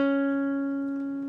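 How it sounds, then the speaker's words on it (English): A single guitar note picked on the D string at the 12th fret, from a solo, sounding clear and alone and decaying slowly as it sustains. "you will pick the D string 12th fret where your pinky is one more time"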